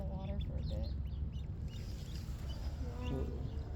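A duck quacks repeatedly near water as it waddles toward the edge, its calls mid-loud over steady outdoor background noise, with people talking at times.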